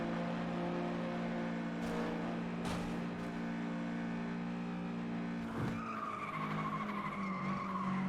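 Race car tires chattering and skidding for grip in FlatOut 2, steady engine drone underneath with several short squealing bursts and a rising skid toward the end, fairly close.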